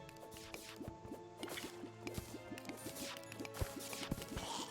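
Water poured from a bucket in a video game, with gurgling, dripping liquid splashes in a quick bubbly rhythm over steady game ambience, fairly quiet and with no speech.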